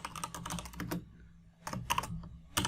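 Keys clatter on a computer keyboard as a database query is typed, close and crisp in quick bursts of taps separated by a brief pause.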